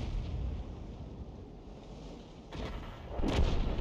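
A tank's main gun fires in a combat video game, heavy booming blasts over a constant low engine rumble, with a louder burst near the end and no talking.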